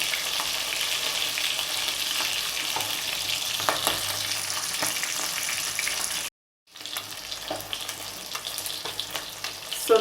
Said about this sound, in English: Make sure that you fry the fish in a big enough pot so that you will have room to flip the fish over